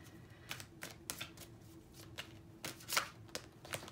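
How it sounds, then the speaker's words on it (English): A deck of oracle cards is shuffled by hand in a quiet room, a steady series of crisp riffling flicks and slaps spaced about every half second, close and alone. "let me pull a crystal card"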